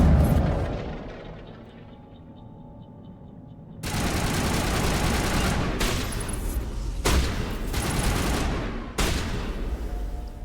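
Explosions and gunfire in the video game Mass Effect: after a quieter rumbling stretch, a sudden loud blast breaks into sustained, dense bursts of shooting with several sharp cracks and renewed booms.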